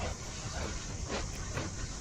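A train in a video game speedrun, giving a continuous hissing rumble with faint rhythmic rail clatter, steady and moderately loud throughout with no voices.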